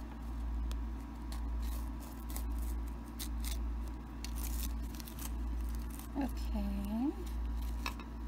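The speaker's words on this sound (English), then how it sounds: "embroidery scissors, and I'm just going to cut around here" Embroidery scissors cut around fabric in a steady series of soft, rhythmic snips over a low background hum, with a brief voice partway through.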